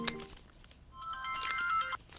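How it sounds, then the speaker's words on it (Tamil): A phone rings with a bright electronic ringtone melody, a short repeated tune heard at moderate volume indoors after a brief clatter. "இந்த ஃபோன் வருது, வெயிட் பண்ணு."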